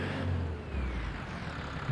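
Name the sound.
tractor engine revving in snow, from video game Farming Simulator 25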